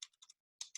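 Someone types on a computer keyboard in a quiet room, with a quick cluster of four soft clicks, a short pause, then two more keystrokes, close and faint.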